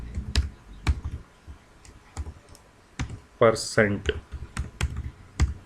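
Python code is typed on a computer keyboard in scattered, crisp clicks and short bursts of keystrokes, close up, while someone speaks briefly in between.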